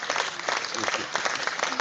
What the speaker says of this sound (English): PM deserves a round of applause.